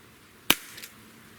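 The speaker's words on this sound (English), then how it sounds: "So let's shoot the 5 shots and see what we get." A single sharp shot from a Sig Sauer X-Five ASP pistol cracks out once at close range, followed by a faint short echo, with quiet surroundings before and after.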